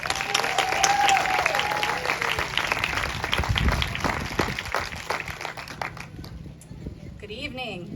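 A school crowd at a Blue Ribbon School ceremony at Alaiedon Elementary applauds to welcome a teacher, with steady clapping that swells and then fades out near the end as a voice begins to speak.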